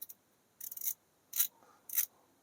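Wera 838 RA S bit ratchet mechanism being turned by hand, giving short raspy ratcheting bursts: a longer rattling run followed by two brief clicks, close and alone in a quiet room.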